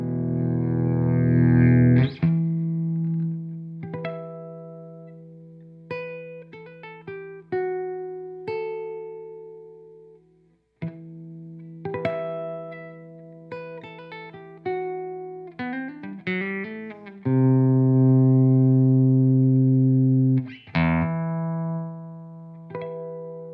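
Electric guitar plays an intro through a volume pedal, loud sustained notes and chords swelling in and out with distortion and effects, separated by short pauses and quick plucked runs.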